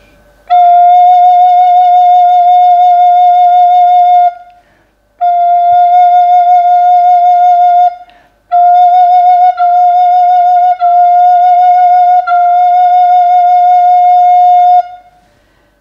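Recorder sounding the note F: one long sustained tone of about four seconds, then four shorter, evenly spaced notes of the same pitch. Steady and clear, played alone with no talking.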